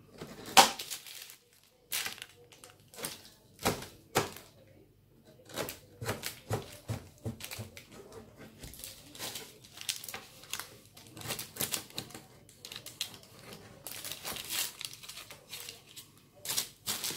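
A knife trims the edges of Christmas tree shapes cut from dough, making a series of irregular, close crisp cuts and taps against a board, with short pauses between bursts.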